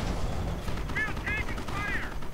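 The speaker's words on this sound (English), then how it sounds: "Panzer grenadiers coming under heavy machine gun fire from the Staghounds, getting suppressed." Heavy machine gun fire crackles in a World War II strategy video game, a dense rattle of bursts under the din of battle while a voice whistles or chirps faintly above it.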